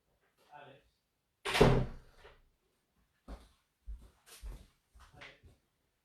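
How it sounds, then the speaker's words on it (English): Door closing with a firm thunk at close range in a quiet room, followed by a few softer knocks and shuffles as it settles; no talking. "I just need to close the door"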